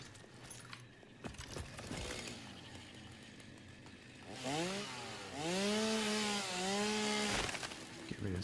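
A chainsaw in the game Satisfactory, revving and whining as it cuts through foliage, its engine pitch rising and falling in loud bursts near the listener.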